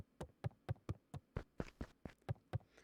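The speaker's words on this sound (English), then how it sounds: "Is that a knock at the door?" Knocking on a door in the video game Beacon Pines: about ten sharp, evenly spaced raps in a steady rhythm, close and clear, with no voices.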